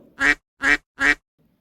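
Three loud, nasal duck quacks in quick succession, evenly spaced and close by, then quiet.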